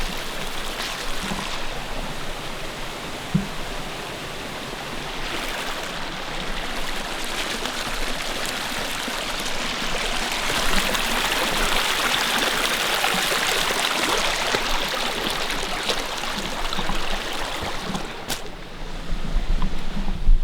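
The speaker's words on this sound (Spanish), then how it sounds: "Voy a cruzar el río." A river rushes steadily while someone wades across it, a broad continuous flowing wash with occasional splashes and a brief louder surge near the end.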